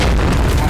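A grenade blast from the video game Point Blank produces a loud, broadband, close boom that fills the whole moment, dense and rumbling with no clear separate repeats.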